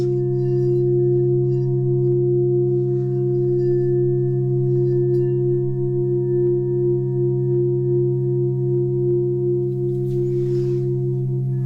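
Crystal singing bowl sustaining a steady, loud shimmering tone at the F note, with layered humming overtones that ring evenly for the whole stretch without fading.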